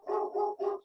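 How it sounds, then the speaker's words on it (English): Dogs barking outside at a house, three quick muffled barks in a row, heard through a room with no one talking. "Those dogs."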